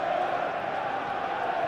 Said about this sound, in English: A capacity crowd here.